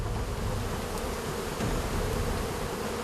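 A dense, continuous hum of Indonesian honeybees swarming around a wild nest high in a tall tree, steady and fairly loud with no voices.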